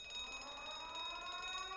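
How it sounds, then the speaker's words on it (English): A faint, steady electronic alarm rings from a ship in the video game The Great Ace Attorney Chronicles, sounding as a continuous tonal buzz with no voices. "That's the alarm."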